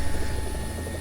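A helicopter in War Thunder flies overhead with a loud, steady rotor and engine roar, a continuous heavy drone with a high whine on top and no voices.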